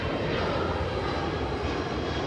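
Steady loud drone of an airplane engine passing overhead, a continuous broadband roar held throughout the short stretch with no talk.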